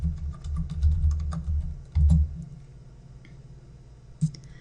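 Typing on a computer keyboard while entering text for a postcard design, a run of soft clicks with a few louder key thumps, then quieter, sparse taps near the end.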